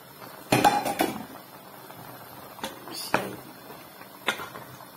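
Washed ishaki meat is moved into a cooking pot, producing a few sharp metallic clanks and clinks of pot and utensils spread over several seconds, fairly faint against a quiet kitchen background.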